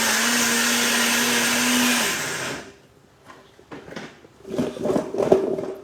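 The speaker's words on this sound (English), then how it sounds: "I have to bring this blender here" An electric blender runs with a steady, loud whir for about two seconds, winds down, then gives way to quieter clatter and handling knocks around the kitchen counter.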